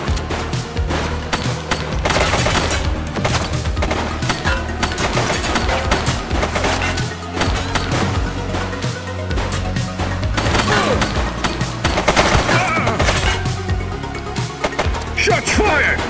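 Dense, rapid gunfire crackles through a shootout in the police video game The Precinct, steady and loud throughout, with shouting voices mixed in.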